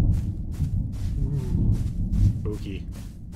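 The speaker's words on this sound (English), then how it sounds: "forgot about the big thunderstorms and the weather and stuff." Rolling thunder rumbles through a heavy storm with steady rain in an Old West survival video game, a low continuous roar that swells and fades in waves, and a few faint tonal game sounds come in near the end.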